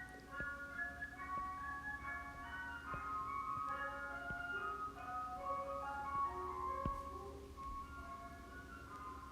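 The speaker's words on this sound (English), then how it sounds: "Only in Arizona do you have an ice cream person driving through the neighborhood on a beautiful January afternoon" An ice cream truck rolls through a sunny Arizona neighborhood on a January afternoon, its tinkling chime melody repeating steadily at a moderate distance over a faint low engine drone.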